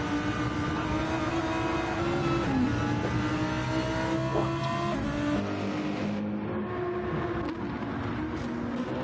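Race cars racing at Brands Hatch in Gran Turismo 7, with high engine whine climbing and dropping through gear changes as several cars pass close, loud and steady, with faint commentary beneath.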